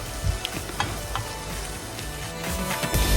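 An onion and green chilli mixture with half a teaspoon of turmeric sautés in a pan, a steady close sizzle with a few scraping stirs and clinks, and no talk.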